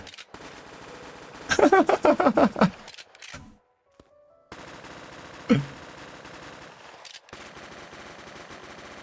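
Submachine gun in the Craftopia video game fires a rapid burst of about a dozen sharp shots, then a short gap and one louder single shot over a low ambient hum, with no talking.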